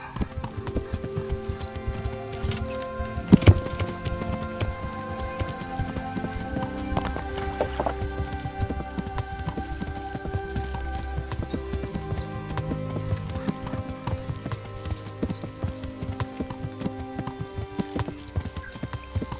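A horse's hooves drum in a steady, continuous gallop across Kingdom Come: Deliverance, the medieval role-playing game. Sustained tones, likely music, play underneath the hoofbeats throughout.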